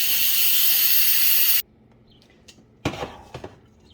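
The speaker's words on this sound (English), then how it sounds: "steam up those veggies while I quick release my pressure-cooked pasta" Steam from a pressure cooker of pasta under quick release hisses loudly and steadily, then cuts off abruptly, leaving quiet with a few faint clatters.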